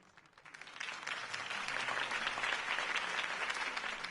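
A crowd in a PS4 video game bursts into sustained applause that swells quickly and holds steady, dense and loud, with no voices standing out.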